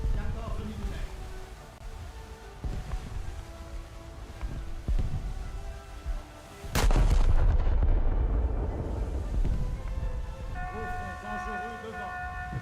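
Naval gunfire from the French battleship Strasbourg in a warship video game: scattered distant thuds, then one sudden heavy boom with a long rumbling tail, and a player talks throughout.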